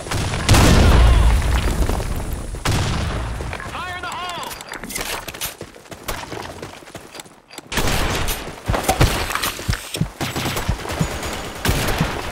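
Combat in the online shooter Blackshot erupts with a heavy explosion followed by rapid gunfire and scattered booms, loud and close, with a voice shouting over the din.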